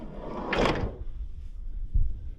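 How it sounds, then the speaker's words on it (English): The side loading door of a Ford Transit Custom van opening, a single loud sliding rumble and clunk up close, followed by a softer thud a moment later. "So I've actually got a side loading door on the driver's side as well"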